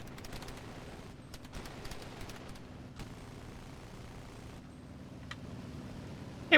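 Video game gunfire from Operation Sunset crackles in scattered bursts of rapid shots over a steady low rumble of engine noise, staying at a moderate, fairly distant level throughout.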